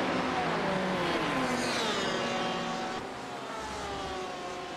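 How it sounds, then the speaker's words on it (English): An LMP1 prototype race car in an iRacing simulation at Suzuka sweeps past with a rising then falling engine whine, loud at first and fading as it moves away, with other cars droning behind. "Another LMP1 car comes by between these two battling GTs."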